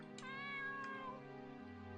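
A single drawn-out cat meow from the video game Aria's Story sounds over soft background music, clear and close, with no talk.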